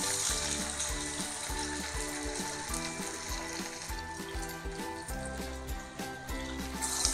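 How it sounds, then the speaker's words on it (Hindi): Ready-to-cook crispy chicken wings deep fry in hot oil, giving a steady, dense sizzle with crackling bubbles that carries on loud and close the whole way through. "तो चलिए पहले इसे फ्राई करते हैं सबसे पहले।"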